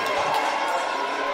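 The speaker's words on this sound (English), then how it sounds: "the crowd gets into it" A basketball crowd at an OCAA men's quarterfinal, Mohawk at Centennial, roars in a steady, dense wash of cheering and shouting that fills the whole short moment without a break.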